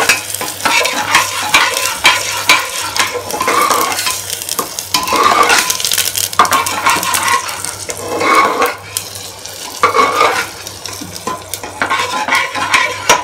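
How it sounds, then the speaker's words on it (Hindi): Gram flour (besan) being roasted in a pan and stirred with a spoon, repeated scraping and clinking strokes over a soft sizzle, close and fairly loud. "ये बेसन इसमें डालूंगी और बेसन को मैं थोड़ा लाल करूँगी"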